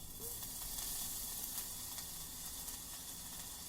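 Garlic sizzling in hot oil at about 400 degrees on a Vevor 22-inch flat top griddle, a faint, steady crackling hiss with no talk over it.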